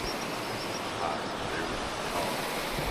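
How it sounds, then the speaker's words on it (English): Steady rushing of a river flowing outdoors, with a ruined mill on the far bank, a continuous broadband wash at moderate level with slight wind, no voices over it. "Pretty nice river."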